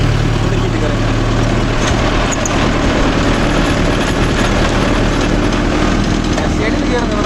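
A Mahindra Yuvo Tech Plus 585 4WD tractor pulls a 42-blade rotavator in low gear through a field, its engine a loud, steady low rumble with mechanical clatter, and someone talks over it.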